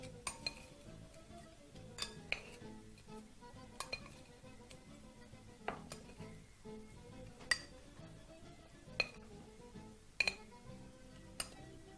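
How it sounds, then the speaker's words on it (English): Metal tongs scooping breaded crispy fish fillet and spicy crunchy fries onto a plate, with quiet, scattered clinks and light taps spread at irregular intervals over a soft background. "using your pair of tongs, begin to scoop everything into it"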